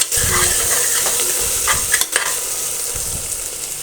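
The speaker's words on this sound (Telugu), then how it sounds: "ఇప్పుడు కొంచెం అల్లం వెల్లుల్లిపాయ పేస్ట్ వేసుకొని పచ్చివాసన పోయేంత వరకు ఫ్రై" Ginger garlic paste frying with golden onions and biryani spices in a pan for kushka, a loud continuous sizzle broken by a few stirring scrapes and clinks, with no talking.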